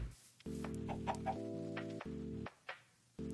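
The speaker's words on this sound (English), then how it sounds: "I hear you, chicken." Minecraft chicken making clucking sounds, several short clucks over a steady layered game music background with brief pauses.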